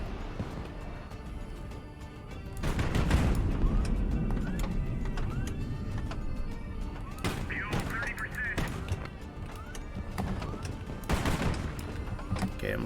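Gunfire during a naval battle in HighFleet: repeated sharp bursts and volleys crack over a rumbling background, with heavier clusters of shots now and then, fairly near and loud, and a voice speaking at times over the din.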